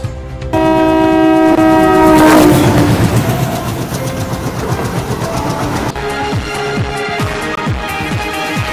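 An intercity train on the Gulbarga to Secunderabad route sounds a loud horn, then rolls past close by with a rumbling, rhythmic clatter of wagons over the rails.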